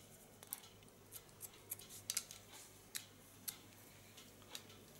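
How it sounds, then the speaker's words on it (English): Hair scissors snip in quick, irregular bursts of point cuts, trimming the line of a black classic bob; the crisp, close clicks stand alone over a quiet room. "Lay the hairs down, point cut and correct the line."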